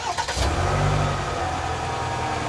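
A Chevrolet Silverado 1500 pickup starts up with a quick crank, then its engine catches and settles into a steady, fairly loud idle nearby.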